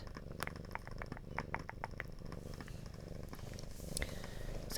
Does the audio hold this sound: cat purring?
yes